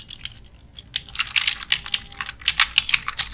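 Rapid typing on a computer keyboard while working in Excel, with irregular bursts of crisp, close key clicks that grow denser toward the end, and no talking.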